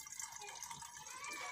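Water poured from a cup through a funnel into a bottle, a faint, continuous trickling and splashing with a voice speaking quietly alongside.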